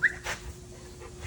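Hank, a six-year-old farm dog, lets out a short high whimper followed by a faint brief yip, close by, in a clip of just over a second.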